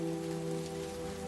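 Rain falls in a steady, dense patter that stays even throughout, accompanied by a low sustained hum; no voices are present.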